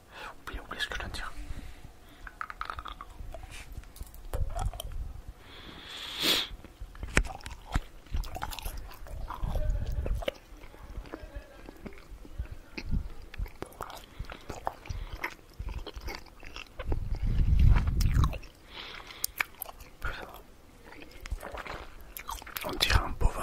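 Close binaural mouth sounds of food bitten and chewed in one big mouthful, wet crunching and smacking bursts repeating steadily for the length of the clip, with soft whispering in between.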